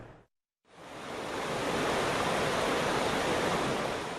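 Floodwater rushes loudly and steadily across a washed-away main road in KwaZulu-Natal, a broad continuous roar that starts after a brief gap of silence and holds constant, with no talk.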